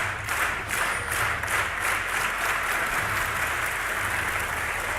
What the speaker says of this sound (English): The crowd is cheering. The crowd is excited.